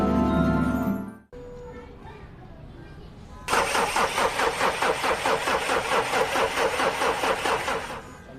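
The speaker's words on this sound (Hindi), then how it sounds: "अरे मेरी गाड़ी तो बंद हो गई।" A car engine runs loudly and then cuts out abruptly. After a short quiet pause, a starter cranks repeatedly in a rapid rhythmic churn for several seconds without catching.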